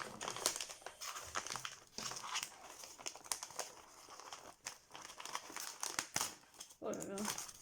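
Someone unwraps a received parcel, with loud, close crinkling and crumpling of packaging and a few sharp tearing bursts in irregular handfuls and short pauses, while a person talks intermittently.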